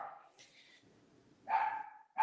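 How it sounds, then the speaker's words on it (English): A household dog barks indoors in a few short bursts at moderate distance, with quiet gaps between the barks. "Sorry, it's our dog."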